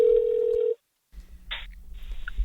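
A phone call being dialed: a steady dial tone that stops, a brief silence, then a short electronic beep and a further tone over faint line noise.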